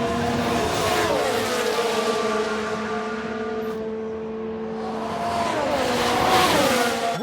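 F1 race cars in F1 Manager 22, 1993 season, roaring past with sustained high-pitched engine whine and tire squeal, loud and continuous, rising in intensity toward the end.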